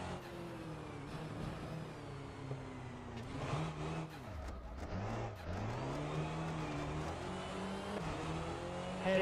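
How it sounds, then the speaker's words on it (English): Skoda Favorit 136 rally car in Richard Burns Rally, its small engine droning and shifting pitch through revs and lifts off throttle, with a deep dip mid-run before steady pulling resumes, loud and close throughout. "The car is, or the engine, is behaving so strangely off throttle."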